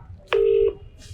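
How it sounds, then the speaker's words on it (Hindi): A single electronic phone tone on speakerphone, one steady beep lasting about a third of a second, clear and fairly loud against a quiet background. "अरे यार, रिंग बज गई"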